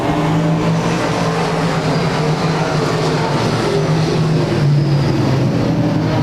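Race cars running at Claremont Speedway weekly racing, with a steady, loud engine roar that holds throughout, several cars droning together as a pack comes off the final turn.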